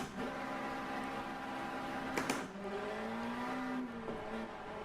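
A racing car in a sim racing game, played in VR, pulls away onto a circuit with a steady engine drone rising and falling in pitch, plus a couple of brief knocks, and no talking.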